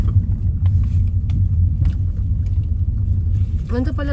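A car on the move with its engine running gives a steady low rumble throughout, close and continuous, with a brief burst of speech near the end.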